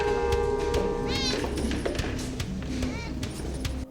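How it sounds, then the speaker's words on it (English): A black cat meows in a film excerpt, giving a rising, wavering cry and then a second shorter meow over a dense, steady background of music and ambient noise. "A black cat went past us"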